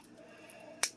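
A single quick snip cuts into a perforated cooking bag for a bag-and-season beef eye round, a short sharp click near the end of an otherwise quiet kitchen moment.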